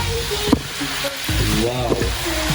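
Spicy chicken adobo fries and sizzles loudly in a pan with stirring, a steady hiss broken by scraping and clattering; a voice briefly sounds partway through.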